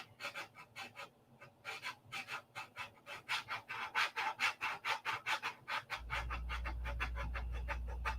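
A model P-47 airplane part is hand-sanded with quick, steady back-and-forth rasping strokes, close and even in rhythm. A low steady hum joins partway through.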